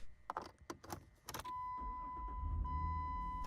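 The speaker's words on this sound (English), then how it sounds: "You get in your car." A person climbing into a car: a run of short clicks and thumps from the door, seat and keys, then a steady low rumble as the engine comes on, with a sustained tone held throughout, close and moderately loud with no talk.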